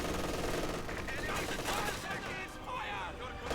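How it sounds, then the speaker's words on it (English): Several MG-34 machine guns fire in a Company of Heroes 2 battle as a steady, dense rattle of gunfire, with battlefield noise filling the mix throughout. "I hear multiple MG-34s firing."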